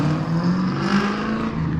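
A Cobra car's engine revs hard with tires spinning, a continuous throaty droning roar that holds steady through the short burst with no voices over it.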